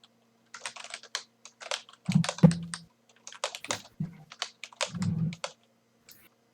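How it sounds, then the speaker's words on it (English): A computer keyboard typed on rapidly in bursts of dense clicking, close and fairly loud, during a competitive online game match, with short pauses between the flurries. "Paul is furiously typing away"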